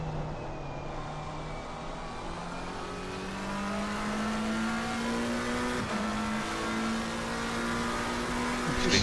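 Race cars lapping Suzuka in a racing video game, a McLaren and a Ferrari among them, with steady engine drone and rising revs throughout, loud and continuous with no talk.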